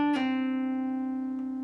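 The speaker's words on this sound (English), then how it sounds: "What we're going to do is we're going to pick the G string 7th fret and then pull our ring finger off" A single guitar note is picked on the G string at the 7th fret, and the ring finger pulls off to a lower note that rings out clean and sustained for over a second, played alone.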